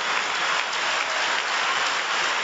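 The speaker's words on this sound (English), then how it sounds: "the standing ovation from the crowd here at the Falconer Centre" Standing ovation from the crowd at a badminton arena, the Falconer Centre: dense, steady applause filling the space throughout, loud and continuous with no voices standing out.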